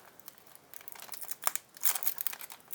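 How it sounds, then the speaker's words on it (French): Fingers tear open the wrapper of a McDonald's Pokémon card booster pack, giving close, crisp crinkling and tearing noises in uneven bursts that grow louder toward the end. "on va commencer par ouvrir ce booster ci"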